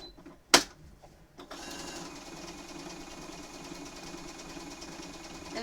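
A home sewing machine stitches raw-edge appliqué onto a Pokémon quilt, running at a steady, even hum after a sharp click, close and alone with no talk.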